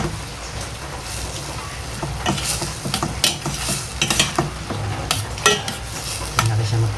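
Pure tomatoes being stirred in a pan: scraping, clinking utensil strokes in an irregular rhythm over a steady sizzle, close and fairly loud, with no talking.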